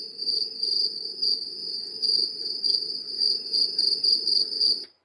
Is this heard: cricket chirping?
yes